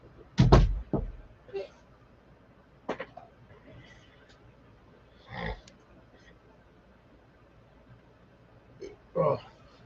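A door closes with a sharp, loud thud at the start, followed by a few softer knocks and shuffles spaced apart in an otherwise quiet room.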